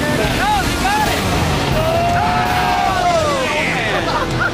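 Pounding surf and wind noise roar continuously around a small boat during Navy SEAL BUD/S training in ocean waves, with faint distant shouts mixed into the rush.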